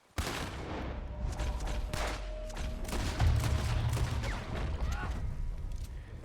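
Gunshots ring out in a Red Dead Redemption 2 standoff, a dense run of sharp shots and booms over continuous game ambience, fairly loud throughout, with some voice mixed in.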